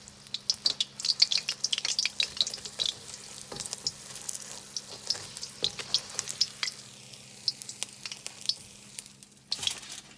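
Chinese takeout-style egg rolls frying in hot oil, a steady close sizzle broken by constant crackling pops and spatters, with a low hum underneath and no talking.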